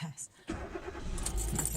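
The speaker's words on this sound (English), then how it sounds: "let me start my car" Keys jangle near a car, then after a brief pause its engine starts and settles into a steady running rumble, close and fairly loud.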